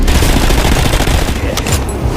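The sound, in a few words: gunfire in war video game trailer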